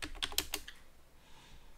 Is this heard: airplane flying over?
no